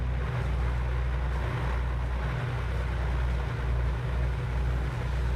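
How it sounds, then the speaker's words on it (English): The twin piston engine of an A2A Aerostar 600 in a flight simulator runs steadily, with one engine just started, a continuous low droning rumble with faint periodic pulses, loud and unchanging throughout. "All right, engine number 2 is started."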